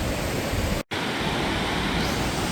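A waterfall in Labrador roars as a steady, loud broadband wash with no voices, broken only by a brief dropout.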